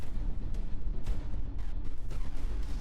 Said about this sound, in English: We probably did a pretty scary explosion here.